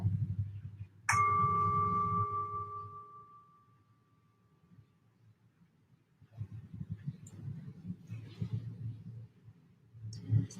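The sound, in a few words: singing bowl ringing, gentle vibrating tone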